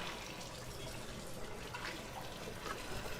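Tap water runs steadily into a kitchen sink while a knife is rinsed, a faint, even splashing hiss with no voices.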